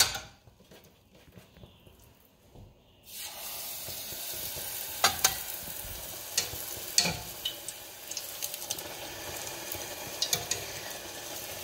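Doubles dough, a Trinidadian fried flatbread, sizzling and bubbling in very hot oil, a steady crackling fry that starts loudly after a brief quieter moment, with occasional sharper pops and spatters close by.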